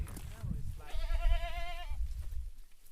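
A single sheep on a Norwegian farm lets out one wavering bleat, close and clear, lasting about a second amid low rustling and wind-like background noise.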